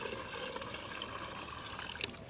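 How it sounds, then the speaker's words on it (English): Water from a watering can splashes steadily onto a garden bed of soil, a faint continuous trickling patter lasting a couple of seconds with no talking. "I'm going to water this bed first"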